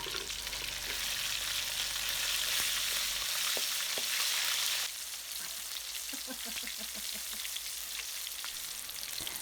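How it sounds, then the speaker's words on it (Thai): Giant crickets coated in batter frying in hot oil, a steady loud sizzle with crackling that eases partway through, and a few soft stirring clinks near the end. "วันนี้คุณแม่จะทำเมนูจิกกุ่งทอดนะครับ"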